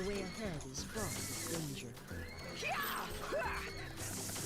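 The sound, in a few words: horse neighing in a video game, the fiery steed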